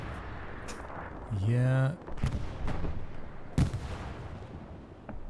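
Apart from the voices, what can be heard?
anti-tank gun firing in the video game Hell Let Loose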